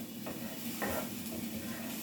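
Frozen peas and rice fry in a pan for egg fried rice with a soft, steady sizzle and hiss, plus a few light scraping stirs, fairly quiet and close, with no voices.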